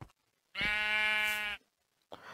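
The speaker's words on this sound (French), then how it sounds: "Donc ça, à mon avis, c'est un mouton qui s'est cassé la gueule du haut de la montagne." A sheep in a video game bleats once, a loud, clear, wavering cry lasting about a second, standing alone between short stretches of quiet and faint background noise.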